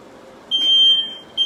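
Two sustained high-pitched smoke alarm beeps sound indoors: a long tone of about a second, a pause, then a second tone starting, loud and clear over a quiet background.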